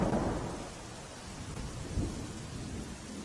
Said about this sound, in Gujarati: કચ્છના અબડાસામાં ભારે વરસાદ વરસી રહ્યો છે